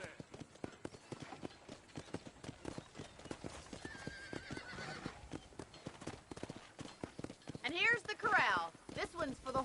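Rapid hoof clip-clops patter steadily over a busy backdrop at a ranch in Red Dead Redemption, and a horse whinnies loudly near the end.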